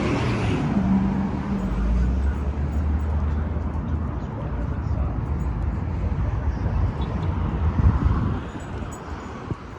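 A city bus rolls along a downtown Salt Lake City street, its low engine rumble and roadway noise holding loud and steady for several seconds, with a voice talking over it.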